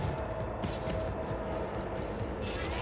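Burst-fire gunshots in the Warhammer 40K game Rogue Trader, a dense, continuous volley of rapid shots layered over game music and ambience, loud throughout the short stretch.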